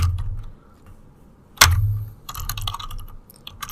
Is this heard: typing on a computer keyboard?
yes